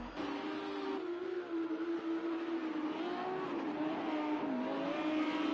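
A race car engine revs and holds a droning pitch as it is whipped around Sonoma Raceway during a GRL race, the tone rising and dipping with throttle, steady and fairly distant throughout.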